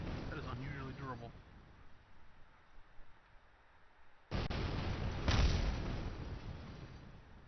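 A spacecraft part blows apart in modded Kerbal Space Program, a loud broadband blast that bursts in after a quiet stretch and rumbles on with a second peak, following a short stretch of speech at the start.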